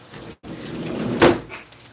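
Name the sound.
window being closed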